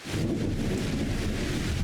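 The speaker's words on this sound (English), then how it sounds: "oh, now it's raining" Rain falling in Farming Simulator 25, a steady dense hiss of downpour with a low rumbling undertone, continuous and moderately loud for a brief stretch with no talking.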